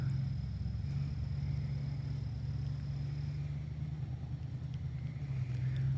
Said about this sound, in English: A truck just pulled into the lot.